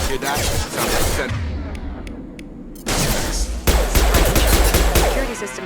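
Gunfire in the shooter game Mass Effect: rapid bursts of automatic weapon fire with loud cracks and booms, pausing briefly before resuming heavier, with voices calling out amid the shooting.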